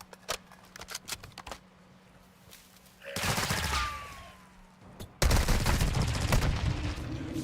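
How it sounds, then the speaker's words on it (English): Rapid gunfire in Call of Duty DMZ, starting as scattered sharp single shots and then breaking into dense sustained automatic bursts, loud and close, with a second heavy volley near the end. "You are taking effective fire."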